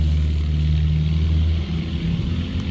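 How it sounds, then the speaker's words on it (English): A small aircraft's engine rumbles steadily at high power, a loud low drone that holds through the clip with a slight dip near the end, heard from a distance at an airstrip near Johnnie, Nevada. "Oh, he's gassing it up now."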